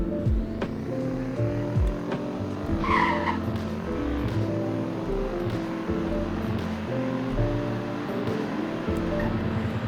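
A Lamborghini Urus accelerating hard from 0 to 100 on a winter road in Greenville, Wisconsin, its engine note climbing through stepped gear changes, loud and steady over road roar.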